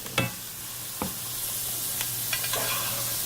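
Steak sizzling in butter in a cast iron skillet while being basted, a steady close sizzle with a few sharp spoon clinks and scrapes against the pan.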